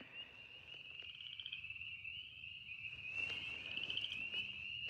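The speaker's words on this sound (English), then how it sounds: "Now the frogs are back." Frogs calling at night at a campsite form a dense, steady high-pitched trilling chorus that grows louder toward the end, with faint rustling underneath and no voices.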